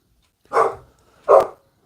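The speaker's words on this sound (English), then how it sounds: "He's a Cocker Spaniel and he barks at his own shadow all the time." A Cocker Spaniel barks twice indoors, each bark a loud, clear single burst with a short gap between them and no talk over it.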